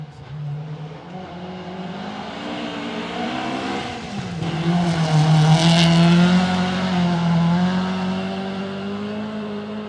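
An Escort rally car charges up a forest stage, its engine building from a steady drone to a loud, straining rev that peaks midway and then holds as the car passes close by, with no voices.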